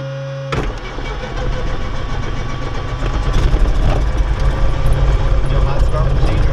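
A Diamond DA-40 aircraft engine catches after a quiet pause, jumping abruptly to a loud, steady propeller-driven rumble that builds slightly and holds, close and dominant.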